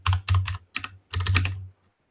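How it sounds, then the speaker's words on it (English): Quick bursts of typing on a computer keyboard, close and clear, in four short clattering runs separated by brief pauses before falling silent. "It's hard to do all this typing around."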